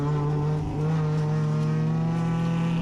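Touring race cars at Sonoma Raceway carry a steady, loud engine drone through a wide corner, a sustained tonal whine with slight pitch shifts, heard close and without voices.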